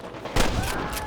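Gunfire in the Western video game Red Dead Redemption, a sudden loud burst of several overlapping shots that rings on and trails off with a couple of further cracks.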